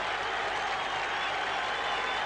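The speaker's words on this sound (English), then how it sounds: "And the Greeks are cheering as loudly as indeed are the Londoners." Stadium crowd at Karaiskakis stadium in Piraeus cheering and applauding during Chelsea's lap of honour, a dense, steady roar of clapping and shouting filling the space with no breaks.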